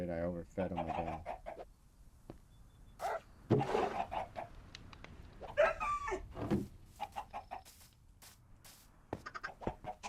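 Scattered clucking from birds on a chicken farm in a survival video game, intermittent and fairly quiet against game ambience.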